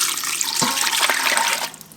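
Broth poured over lima beans in an Instant Pot, a continuous close, loud liquid gush and splash that tapers off abruptly at the end.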